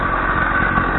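A homemade motorbike engine idles steadily up close, a loud continuous rumble with a fine rapid pulsing and no talk.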